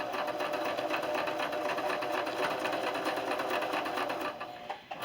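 A sewing machine stitches quilt blocks together along a 1/4 inch seam, running in a steady, fast, even whir close by before slowing and stopping near the end.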